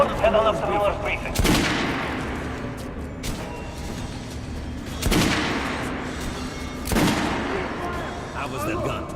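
Gunshots at a shooting range in the video game Metro Redux, a few loud single reports spaced several seconds apart, each with a long echoing tail, with a voice talking between them.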